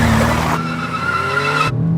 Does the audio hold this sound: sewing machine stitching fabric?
no